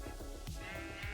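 A sheep bleats in Minecraft's Gregtech: New Horizons modpack, short repeated game bleats over a dense, steady background of game sound.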